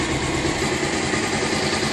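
A Bajaj Pulsar 220 motorcycle engine runs steadily at idle during an oil flush service, a close, even mechanical drone that holds without a break.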